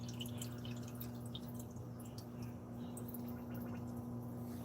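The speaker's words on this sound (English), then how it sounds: "It's flowing over to my heater, filling up the heater chamber." Steady trickle and drip of water filling the heater chamber of an aquarium sump holding a Neotherm 200 watt heater, continuous and close over a constant low pump hum.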